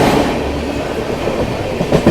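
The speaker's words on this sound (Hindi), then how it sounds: "संपूर्ण क्रांति क्रॉसिंग विद संपूर्ण क्रांति एक्सप्रेस।" The Sampoorna Kranti Express, an Indian passenger train, rushes past on the rails with a loud, continuous rumbling roar and rhythmic wheel clatter, close by and alone without voices.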